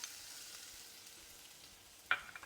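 Chopped garlic sizzles in hot oil in a pan, a steady soft frying hiss throughout, with a few sharper clicks and clatters of stirring near the end; no talking.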